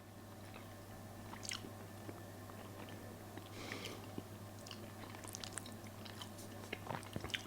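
Close, quiet chewing of homemade dehydrated peanut chicken curry, with soft crunchy bites and wet mouth sounds over a steady low hum, no talking.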